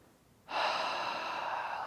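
A deep, steady inhalation during a gentle stretch, starting abruptly and drawn out as a long, close, airy breath with no talking.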